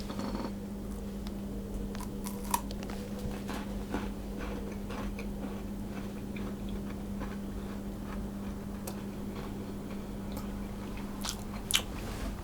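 Crisp Sicilian sesame cookies are bitten and chewed up close, giving scattered small crunches and ticks over a steady low hum, with no talking.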